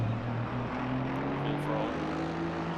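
Race car engine at full throttle in a sim racing game at Kyalami endurance race, a steady droning whine with rising tonal pitch sweeps, continuous and loud, filling the whole moment.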